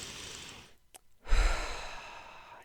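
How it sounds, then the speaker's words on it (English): One slow, deep breath drawn in and then released in a long, soft sigh, close and quiet, with a brief pause between the inhale and the exhale. "take a deep breath"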